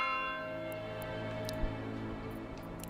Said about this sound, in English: It was the new bell sound.